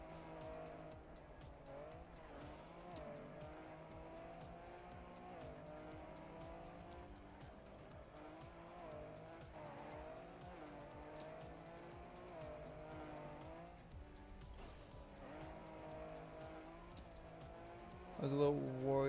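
Cars race in the Trackmania video game, with engines droning steadily and brief tire squeals as the car drifts through corners, all under continuous game audio at moderate level.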